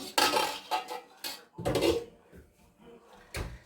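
A metal pot lid is picked up and set down in a home kitchen, giving several sharp clanks and rattles in uneven bursts with short quiet gaps between them.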